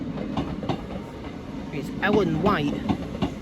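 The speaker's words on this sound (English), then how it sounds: "Coming in now is a Class 319" A Class 319 electric train draws into the platform at Wigan North Western, giving a low rolling rumble, rhythmic wheel clicks and a short rising squeal of brakes, while someone talks close by over the top.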